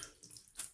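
Water runs from a tap as slick, soapy hands are rinsed off before shaving, a soft steady splash that swells into a brief louder gush near the end.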